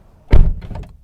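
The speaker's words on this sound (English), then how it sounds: "door has a nice solid slam to it." A single solid, heavy thunk as a Toyota 86 car door is slammed shut, close up, followed by a brief rattling settle; no talking.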